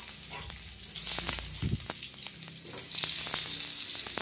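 Dry red chillies and garlic hit hot oil for a tempering, giving a dense, steady crackling sizzle close by with scattered pops and a brief stirring clatter.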